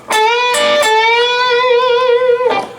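A single sustained electric guitar note on the 14th fret of the G string that bends upward, then holds with a slow, wavering whammy-bar vibrato before cutting off.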